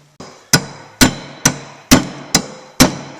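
Steady, heavy metallic hammer blows, about seven evenly spaced strikes, loud and close, driving a broken pinch bolt out of a Mazda Protege, each hit ringing briefly before the next.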